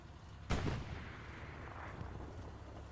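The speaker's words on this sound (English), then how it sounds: "Some rounds going out towards Nosy Medic." Artillery rounds fire in the Hell Let Loose video game on a snowy Elsenborn map: a single loud boom lands near the start, then rumbles and decays over a steady low battlefield ambience, with no voices.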